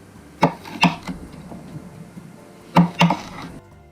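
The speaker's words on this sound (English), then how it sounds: "we will be chopping up 3 of these delicious looking jalapenos" A knife chops through three jalapenos on a board in two quick pairs of firm, close thuds with a short pause between, and no talking.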